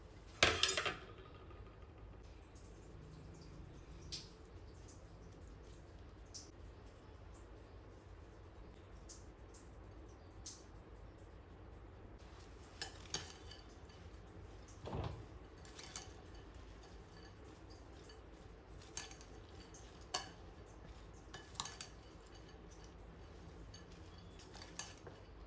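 Spoon mixing kosambari salad of grated coconut, lemon, salt and pepper in a bowl, faint scattered clicks and scrapes over quiet room tone, with a brief louder clatter at the start.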